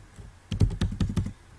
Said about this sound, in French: Donc vous allez taper Uniecto.